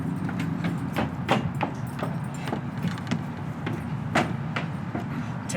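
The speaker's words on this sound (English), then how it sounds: "Wake, Duncan, with thy knocking!" Irregular hard knocks on wood, staged as a door knocking effect in an outdoor Macbeth performance in a parking lot, repeating at uneven intervals over a constant low background rumble.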